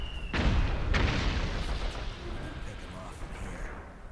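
Gunfire erupts in the Metal Gear Solid 4 game, two sharp booming shots close together near the start, followed by a rumbling, decaying battle wash as play continues.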